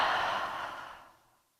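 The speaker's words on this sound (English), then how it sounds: "Inhale through the nose and exhale through the mouth." A single long exhale through the mouth during a yoga breathing cue, a soft airy sigh that starts fairly full and close, then tapers off to silence over about a second and a half.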